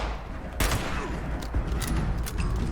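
A hunting rifle fires repeatedly in the video game Fallout 76, with loud sharp reports over dense, constant game noise.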